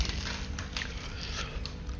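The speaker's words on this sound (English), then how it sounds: "In case if it sounds like I'm chewing on something" Close, crunchy chewing of M&M's caramel cold brew candy, a continuous muffled mastication with a few sharper bites, heard alone without talking.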